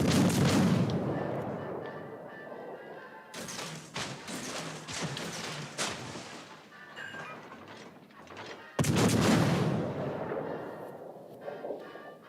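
Naval guns fire in the game World of Warships: Legends, heavy booming salvos with sharp onsets around the start, a third of the way in and near the end, each followed by rumbling decay and scattered thuds.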